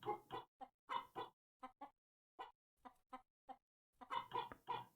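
Several chickens spawned for testing in a video game under development cluck in short, clipped bursts, close and clear, in an irregular rhythm with brief pauses between clusters.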